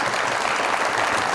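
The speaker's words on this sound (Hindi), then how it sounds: "बहुत सारी तालियां इनके लिए" A studio audience at a late-night Pakistani comedy talk show bursts into loud, dense applause, a continuous wash of many clapping hands close to the microphones.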